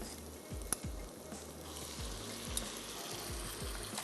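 Marinated chicken seasoned with soy sauce, salt and black pepper drops into a stir-fry pan with vegetables and sizzles steadily, with repeated soft scraping stirs and a few light clinks.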